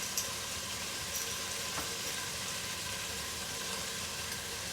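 Pieces of meat fry in a pan with chopped chili, garlic and onion for a feijoada, giving a steady, even sizzle that stays constant throughout with no talk.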